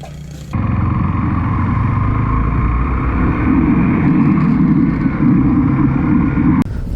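A motorcycle cruises along a highway on a solo ride, its engine droning loud and steady with heavy wind rush, cutting in abruptly after a brief quieter moment at the start, with no voices.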